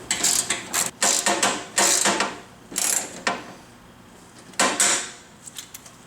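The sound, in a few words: tightening bolts while assembling a Ridgid R4512 table saw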